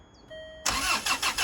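A Land Rover Freelander 2 engine cranks briefly and catches, then runs with a loud, rough idle that pulses a few times. Before the start there is only a faint electronic whine.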